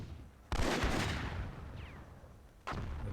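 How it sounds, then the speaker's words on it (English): Grenades and rockets exploding in the real-time strategy game Myth II Soulblighter with a World War II setting: two loud booming blasts a couple of seconds apart, each with a long rumbling decay. "He's throwing grenades and RPGs and the kitchen sink"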